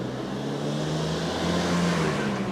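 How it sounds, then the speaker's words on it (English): A big truck rumbles along a narrow Tokyo street, its engine a steady low drone with a continuous hum of road noise, close and fairly loud, with no talking over it. "Just big ass truck on these narrow little streets."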